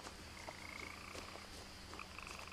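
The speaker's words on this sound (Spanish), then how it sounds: "aquí está sonando una rana inexistente" A frog croaks in the game What Remains of Edith Finch, a few quiet chirping croaks repeating over a faint ambient bed, soft and somewhat distant.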